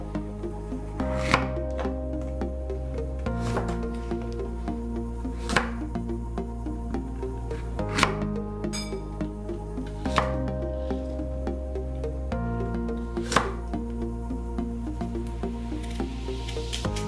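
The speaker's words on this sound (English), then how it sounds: "we're going to slice them thinly" A knife slices Granny Smith apples thinly on a board, a series of sharp, evenly spaced cuts over a low steady background hum, close and clear, with no talking.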